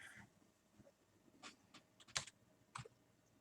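Keyboard typing comes as a few scattered, sharp clicks, some louder taps near the end, fairly quiet and close, with no talking over them.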